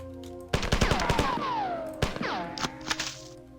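Video game gunfire in Marathon comes in a burst of sharp, rapid shots, followed by a swooping, descending electronic whine and a few more scattered impacts.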